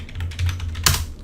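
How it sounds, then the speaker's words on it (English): A short burst of quick keystrokes on a computer keyboard, close and clear, with one sharper key tap near the end. "we will start typing ISO"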